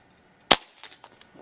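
A single sharp, loud crack from a Crosman Prospect .22 regulated PCP air rifle firing at a target, followed by faint clicks and small handling noises as the sound decays.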